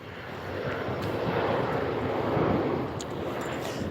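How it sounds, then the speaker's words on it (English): A fixed-wing airplane passes overhead outdoors at sunset, its broad engine roar swelling to a peak midway and then easing off slightly, steady and fairly loud with no voices over it. "I'll say that again because the plane was going by."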